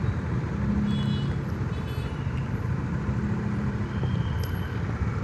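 Steady, dense road noise from a traffic jam of trucks and cars, a continuous low rumble of idling and crawling engines, fairly close and unbroken throughout.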